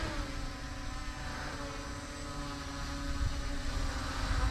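A Holy Stone HS720R drone flies in to land, its steady propeller whine and hum filling the air continuously, growing slightly louder as it approaches, with no talking.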